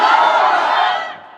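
A crowd at a Bangladeshi Islamic waz sermon roars a loud, sustained takbir response in unison, a dense shout of many voices that holds for about a second before fading away.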